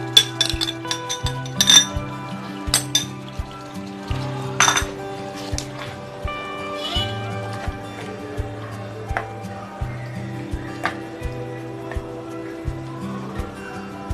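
Metal pot and utensil clinks and clatters ring out in irregular bursts while yogurt is added to a pot of tender mutton stew, with steady sizzling underneath and no talking.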